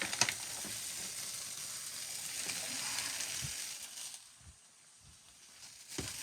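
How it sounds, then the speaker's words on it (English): Cheese frying in its own released oil in a pan until crispy, for a costra taco: a steady, soft broadband sizzle that fades quieter partway through, with a few faint clicks and pan taps. "It'll basically fry the cheese until it gets crispy."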